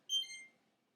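A label maker chirps a short electronic beep as it pairs with a phone app, one bright layered tone lasting about half a second and then quiet.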